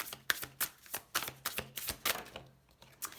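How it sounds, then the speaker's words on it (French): Oracle cards being shuffled and drawn from a deck during a tarot-style reading, a quick series of crisp papery riffles and slaps with short pauses between bursts, close and fairly soft. "On va prendre une première carte."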